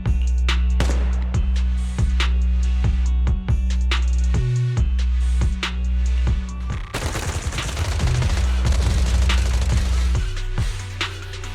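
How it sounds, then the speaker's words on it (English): Sustained automatic gunfire from Zenless Zone Zero, with rapid repeated bursts and sharp shots layered over a loud, steady low game soundscape that grows denser and busier in the second half. "Suppressive marching fire. They're surrounding us from 3 directions."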